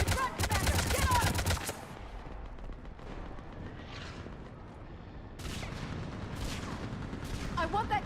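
Rapid gunfire fills a Mass Effect 3 firefight, a dense burst of automatic shots up front, then rumbling battle noise and further volleys, with voices speaking faintly beneath the shooting.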